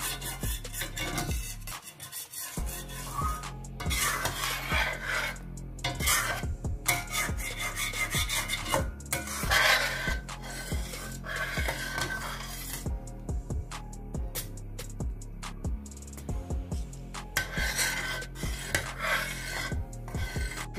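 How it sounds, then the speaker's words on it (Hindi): A spoon scrapes and stirs round a pot of thickening milk being cooked down for milk barfi, a steady run of close rasping strokes with clinks against the metal, no voices. "मुसलसल इसमें चमचा आप हिलाते रहें।"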